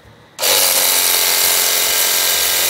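A Miniko jet cleaner pressure washer used for car washing bursts on after a short quiet start, then holds a loud, steady, close hissing spray for the rest of the stretch with no voices.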